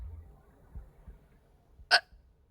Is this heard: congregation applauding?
no